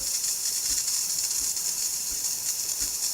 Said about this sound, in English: See how powerful that steam is, and it's hot